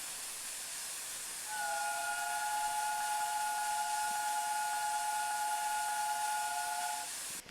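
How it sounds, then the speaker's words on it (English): A steam locomotive whistle sounds in Train Simulator Classic, one long sustained chord-like tone over a soft hiss of steam, starting after a brief pause and holding steady for several seconds before cutting off. "We'll blow a bit of horn."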